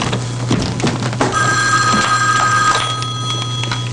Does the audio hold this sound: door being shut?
no